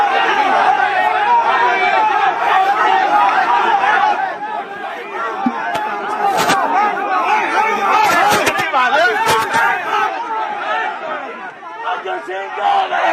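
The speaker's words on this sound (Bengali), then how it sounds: "বিক্ষোভের মুখে বিজেপি প্রার্থী অর্জুন সিংকে কালো পতাকা এবং শুধু তাই নয়, গো ব্যাক স্লোগান দেওয়া হয়।" A crowd of protesters in Titagarh chants and shouts slogans at BJP candidate Arjun Singh during the 2024 Lok Sabha election campaign, loud overlapping voices with rhythmic surges and a brief lull midway.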